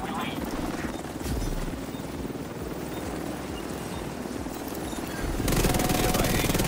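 A helicopter in The Division 2 arrives for an extraction, its rotor thumping in a steady rhythm that fills the mix, loud and close, over other dense game noise.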